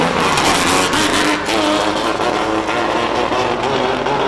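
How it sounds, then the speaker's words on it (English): Shelby Nissan Can-Am race car on the Simola Hillclimb course, its engine roaring loud and close and steady throughout, with no voices. "This is Michael Verrier in the Shelby Nissan Can-Am."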